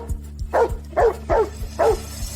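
A dog barks four times in a steady rhythm, close and fairly loud, over a rhythmic low thumping background with no talk.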